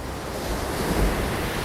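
Ocean surf at the foot of the high Great Australian Bight cliffs, a steady roaring wash of waves mixed with gusting wind noise on the microphone.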